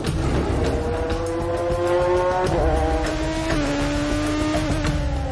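A race car pulls away onto the Spa circuit during Le Mans qualifying, its engine revving loudly and rising through gear changes, close and continuous with a steady, roaring drone.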